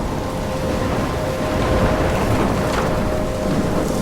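A thunderstorm in the video game Life Is Strange: dense, steady heavy rain roars throughout with low rumbling thunder underneath, loud and continuous with no voices.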